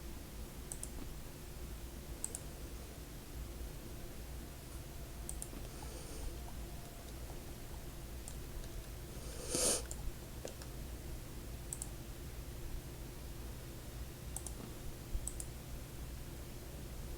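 Quick mouse clicks while building railings in the game EverQuest's Norrath, scattered faint taps over a steady low hum, with one brief louder burst of clicking midway.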